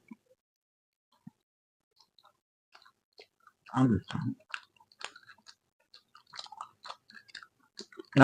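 Biting and chewing on a chicken leg piece, working the bone up close: a pair of loud, crunchy bites, then scattered quieter wet chewing and clicking mouth sounds.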